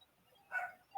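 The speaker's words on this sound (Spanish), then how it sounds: "Creo que son los perritos de acá" A few short dog barks burst out nearby in a quiet room, one cluster mid-moment and another starting right at the end, loud against faint background.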